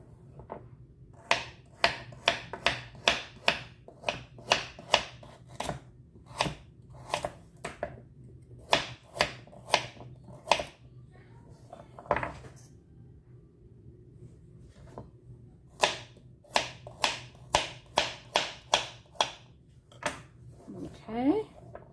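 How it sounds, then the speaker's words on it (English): Knife chopping carrots on a cutting board to ease them through a food processor: a steady run of crisp, close taps in short bursts with brief pauses, alone over faint room hum. "I have some carrots that I'm just gonna chop up a little bit just to make them a little bit easier on my food processor"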